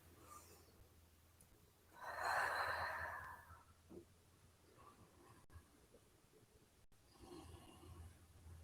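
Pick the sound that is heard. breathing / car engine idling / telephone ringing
breathing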